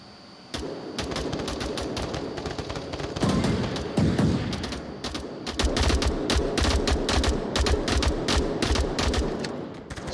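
Sustained automatic gunfire in a team scrim match, dense rapid bursts overlapping from several shooters, loud and close, with short pauses between volleys and no talk.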